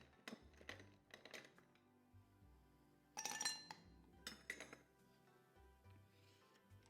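Ice cubes clinking into a glass for a virgin Paloma mocktail, a few soft, separate clinks and clatters heard up close and quietly.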